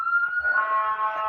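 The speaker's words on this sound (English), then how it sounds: "that's an ambulance" An ambulance siren wails in a steady rising-and-holding tone, loud and close, sounding alone with no talk over it.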